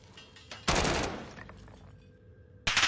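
Gunfire in Call of Duty Warzone, a loud burst of rapid shots hitting the player from behind, followed by quieter game noise and then another sharp burst at the end.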